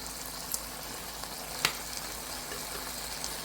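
Curry with potatoes frying in a pan gives a steady, low sizzle throughout, with one brief utensil clatter partway through.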